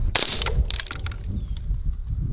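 A rifle with a 16-inch barrel fires Badlands Munitions Shell Shock rounds outdoors, giving two sharp, loud cracks about half a second apart, each trailing into a short fading rumble.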